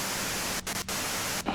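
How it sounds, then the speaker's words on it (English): Steady hiss of white noise in the video game Disco Elysium, a dense static wash with a couple of brief dropouts, loud and unbroken with no voices. "you can do it through the white noise"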